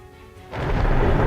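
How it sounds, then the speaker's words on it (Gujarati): Monsoon storm in Gujarat's Valsad district, around Kaprada and Dharampur: a quiet wash of rain suddenly swells into a loud, close, broad rumble of thunder over heavy rainfall, with no voices. "કપરાડા અને ધરમપુરમાં ભારે વરસાદ વરસ્યો છે"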